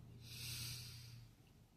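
A single slow, soft breath drawn in through the nose, a breathy hiss swelling and fading over about a second during a guided breathing exercise, quiet and close.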